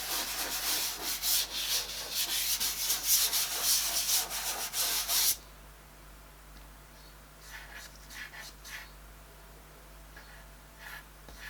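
Coloured pencil blended on paper in small circular motions, a close, loud rhythmic scratchy rubbing for about five seconds, then much fainter intermittent strokes.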